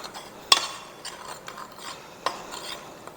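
Salt, garlic powder and onion powder being stirred together for a fried pork chop sandwich produce a soft, close scraping and rubbing with a few light clicks against the bowl.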